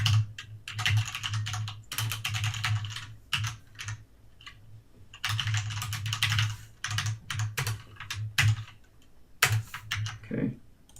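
Typing on a computer keyboard while coding a Java Spring e-commerce admin portal, with quick bursts of clicking keystrokes separated by short pauses, close and fairly quiet, no voices.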